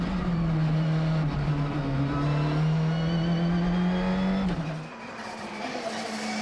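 A Citroën C3 rally car drives hard on a tarmac stage near Antibes, its engine droning steadily and loudly with a sustained high note before easing off, shifting pitch and revving lower.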